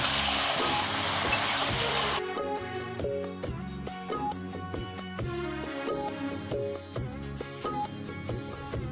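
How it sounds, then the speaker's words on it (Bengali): Chicken hits hot oil with fried onions and sizzles loudly for about two seconds while being stirred. Rhythmic music then takes over and buries the frying for the rest of the clip. "এবার পেঁয়াজটা ভেজে নিয়েছি, চিকেনটা দিয়ে দেবো তেলের উপরে"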